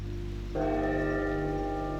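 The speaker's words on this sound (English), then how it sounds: "3 more chimes from the ancestral bell." Ancestral bell in the game Reverse 1999 chimes with a bright, sustained metallic tone that starts about half a second in and rings steadily over a low background hum.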